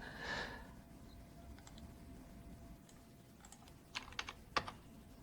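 Brief burst of keystrokes near the end as a git clone command is typed on a computer keyboard, a few sharp clicks after a quiet stretch with a faint hum.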